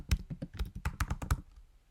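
A title is typed on a computer keyboard in a quick run of about nine close, crisp key taps, followed by a short quiet pause.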